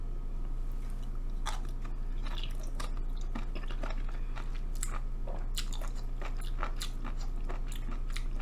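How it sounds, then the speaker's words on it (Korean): Eating an unseasoned mushroom dipped in thin, Tabasco-like Sunchang hot sauce: steady close-up chewing with soft wet crunches and squishes, continuous over a low background hum, no talk. "좀 전혀 간하지 않은 버섯을 한번 찍어 먹어볼게요"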